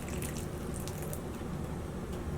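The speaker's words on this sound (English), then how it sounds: "I'll give these a water while I'm talking." Seedlings being watered indoors, a steady soft trickle and patter of water running continuously over the soil, with a fan humming in the background.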